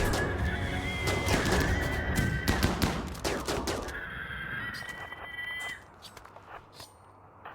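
Rapid gunfire from combat in the RimWorld video game, dense bursts of sharp cracks crowding together over a few seconds before thinning out to scattered shots.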